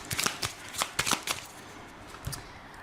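Lenormand cards being shuffled by hand in a series of crisp riffling bursts, clustered near the start and middle with a final short flurry, close and fairly quiet with no talk.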